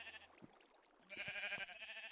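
Sheep in the Minecraft video game bleat a few times in quick succession, faint and slightly wavering, with short gaps between calls.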